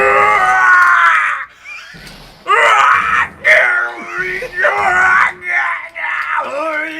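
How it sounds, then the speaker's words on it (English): Screaming from the Ace Attorney video game, a voice wailing and groaning in repeated strained, pitched cries with brief gaps between them, loud and close, sounding distressed and breathless. "I've heard that scream before."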